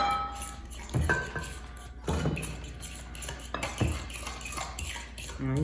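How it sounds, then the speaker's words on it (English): Eggs being beaten into creamy southern rice pudding with a utensil in a bowl or pot, steady clinking and scraping strokes with a few sharper knocks, close and moderately loud, no talking. "You just beat it in."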